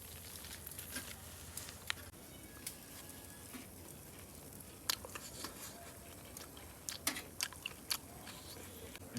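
Close chewing and biting of grilled pork belly from a secondhand grill on a sunny rooftop, with soft crunchy bites and irregular mouth sounds over faint outdoor background.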